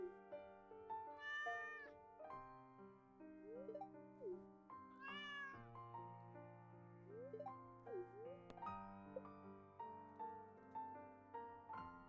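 A cat meows repeatedly in a Stardew Valley game over a steady, melodic background music track. The meows are short, clear and spaced apart.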